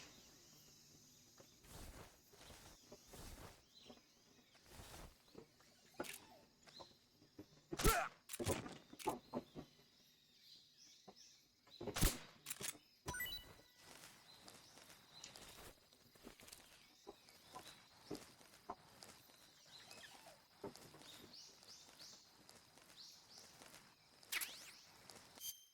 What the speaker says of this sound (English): I can hear footsteps.